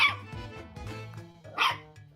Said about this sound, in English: A baby dachshund?